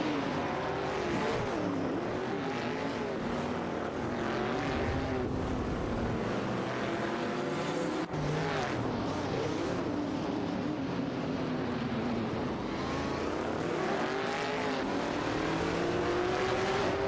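Race cars in a racing video game, among them a Maserati Bora Competizione, roar continuously around the track, engine tones rising and falling as they battle for position, loud and steady with no talk.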